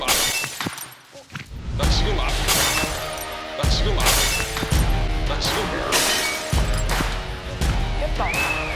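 A symbol object in a Korean survival game show is smashed and shatters in several loud crashing bursts of breaking pieces, mixed with excited voices and background music.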